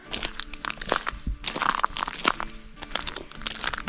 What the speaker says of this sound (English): Crunching of cockles